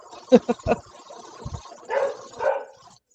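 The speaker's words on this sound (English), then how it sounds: "Who's barking? That would be Karen's dogs." Karen's dogs barking, a few short close yips and barks in quick succession, followed by muffled, faint dog vocal sounds.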